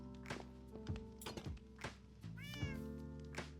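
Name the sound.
cats meowing in Minecraft video game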